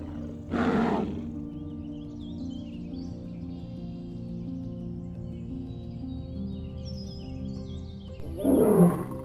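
Lions roar twice, a loud deep call near the start and another near the end, with a low steady rumble between them and faint bird chirps above it.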